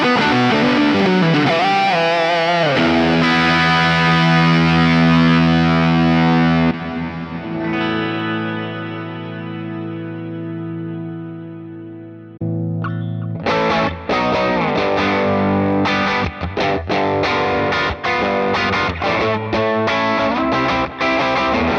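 An electric guitar, a Valentine, plays through a Fractal distortion preset: sustained heavily distorted chords ring and fade, then a loud choppy rhythmic riff follows after a short gap.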